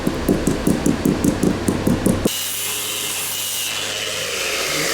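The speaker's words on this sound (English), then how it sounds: "The tapping he's doing is a sounding technique to check for discrepancies in the hull." A hull of a Leopard catamaran, made of fiberglass, is tap tested: around ten evenly spaced, sharp knocks come in a quick, regular rhythm. After them comes a stretch of steady, hissing noise.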